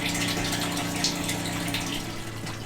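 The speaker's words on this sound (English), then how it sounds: "that water came out a little faster than anticipated" Water gushes out of a pressurized RV fresh-water tank in a strong continuous rushing stream, close and steady throughout with no talk.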